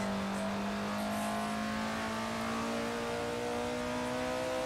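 Race car in a racing simulator on the Nordschleife, engine droning loudly and steadily as it accelerates, pitch climbing gradually through a sustained gear with constant rumble throughout.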